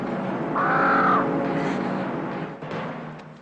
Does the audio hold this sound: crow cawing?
yes